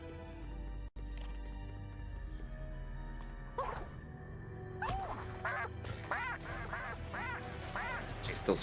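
Ducks quack in repeated bursts in the video game Epic Mickey Rebrushed, rising over a steady game background and music, with a sharp cutout near the start.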